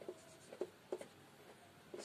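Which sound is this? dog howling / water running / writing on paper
writing on paper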